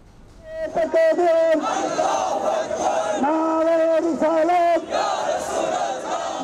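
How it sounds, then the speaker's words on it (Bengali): A large crowd in a religious procession through the capital chants slogans in loud unison, rhythmic call-and-response voices rising and falling together, close and continuous for several seconds. "নাতে রাসূল, দরুদ সালাম এবং নারায়ে রিসালাত স্লোগানে মুখর রাজধানী"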